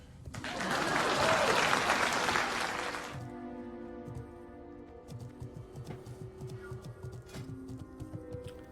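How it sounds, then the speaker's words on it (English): Applause from an online stream audience claps loudly for about three seconds, then cuts off, leaving faint ticking and quiet background sounds. "please clap for Acid"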